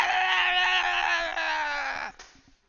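A game master imitates kobold animal cries with his voice in one long, strained screeching howl, loud and close, held for about two seconds before breaking off into a few faint trailing sounds.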